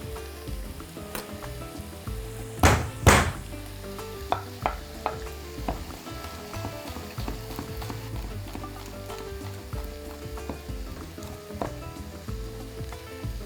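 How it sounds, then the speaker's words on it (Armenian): Garlic sizzles and fries with other ingredients in a pan for a soup, a steady crackle under scattered stirring clicks and a couple of loud scrapes near the start. "Տապակվող բաղադրիչներին առաջարկում եմ ավելացնել 3 բճիղ սխտոր"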